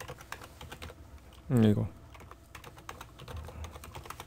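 Close, steady typing on a computer keyboard, a quick run of light key clicks, briefly interrupted by a short spoken word.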